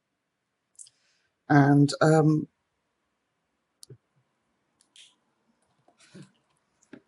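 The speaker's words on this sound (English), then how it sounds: "the lids click on nice and firmly" Caps of Ohuhu Honolulu alcohol markers snap shut in a series of small, sharp, close clicks, spaced irregularly with quiet gaps between them, after a brief burst of speech near the start.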